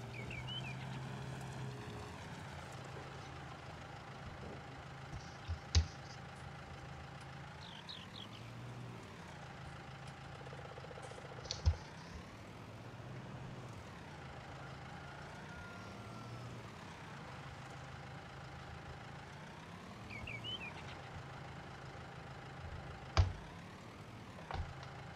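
A farm vehicle rolls along in Farming Simulator 19, its steady engine hum running the whole time with gear whine rising and falling, plus a few sharp clunks.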